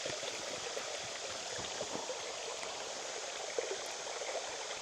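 Water pours steadily into a filter bag while filling it up during an Ozarks camping trip, a continuous close splashing stream that holds even throughout with no talk.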